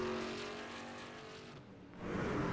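Race truck engines at Homestead-Miami in iRacing, a steady high droning roar from a pack of trucks that swells, dips briefly, then surges as they come around the corner, with no voices.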